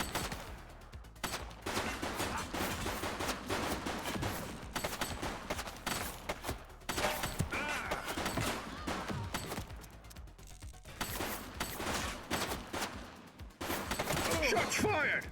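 Sustained bursts of game gunfire from The Precinct, a police procedural, loud and dense with a brief lull partway through before the shooting resumes.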